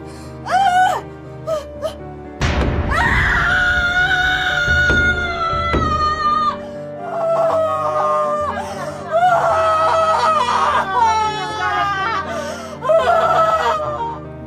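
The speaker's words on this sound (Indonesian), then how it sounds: "Sontak, Jaleswari berteriak histeris sambil menangis." A woman from a Dayak film screams hysterically and sobs, her voice rising in long, wailing cries and gasping breaths over a dramatic musical backdrop, loud and close throughout.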